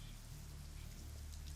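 Steady light rain, a soft even drizzle patter spread across the whole moment with no pauses, setting a bleak mood outside an eerie house at night.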